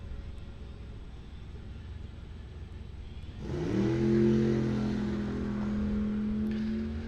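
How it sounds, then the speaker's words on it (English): An old Chevy S10 farm truck launches down a drag strip at Coles County Dragway during bracket racing, its engine roaring up sharply mid-clip over crowd ambience, then holding a strong revving drone. "The old S10 off and running there."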